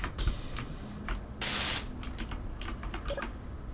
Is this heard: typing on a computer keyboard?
yes